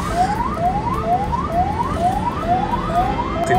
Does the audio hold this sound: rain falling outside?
no